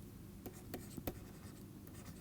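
A pen scratches across a surface while drawing a graph of dropout voltage, making a few faint, brief strokes and taps close by over a quiet room hum.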